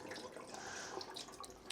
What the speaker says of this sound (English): So I'm going to pour off that excess first of all.